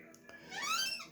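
A brief, rising high-pitched squeak from a Kenmore Destiny Plus vacuum cleaner, thin and whistling, lasting under a second at moderate volume.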